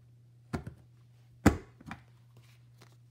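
A Very Best Trio Punch presses down through cardstock backed with designer paper, giving three sharp, close clunks spaced about a second apart, the middle one loudest, over a quiet room with a faint low hum.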